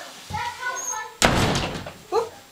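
A door slams shut with one loud, sharp thud at close range, set among voices talking before and after it.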